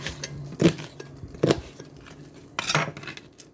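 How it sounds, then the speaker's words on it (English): Vegetables tossed into a pan while a plant-based dinner is cooked in a home kitchen: a few separate clattering impacts and rattles of food landing against the pan, close and moderately loud. "I'm just throwing it in my pan."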